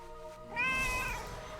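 A pet cat in World of Warcraft, in the Burning Steppes zone, gives a single clear drawn-out meow after a short pause, standing out plainly over faint game ambience.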